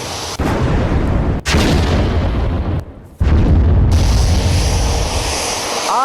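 A loud, sustained roar of blasts and rumbling fills the air during a Russian ICBM strike on Ukraine, with heavy booming bursts broken by a couple of brief drops before the din surges back.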